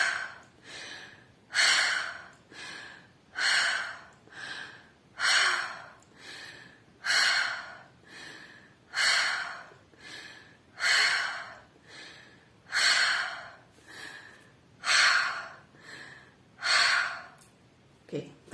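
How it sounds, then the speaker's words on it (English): Deep breaths drawn in and pushed out through the mouth, about ten slow, evenly spaced cycles, each a loud airy rush followed by a pause, close and alone. "breaths in and out through the mouth"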